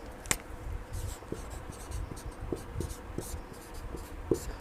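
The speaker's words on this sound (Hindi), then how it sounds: "इसको मैं दूसरे पेन से लिख रहा हूं ताकि आपको दिक्कत ना हो।" Pen writing on paper during a physics lesson, a series of light scratchy strokes and small taps at an irregular pace, close and fairly quiet.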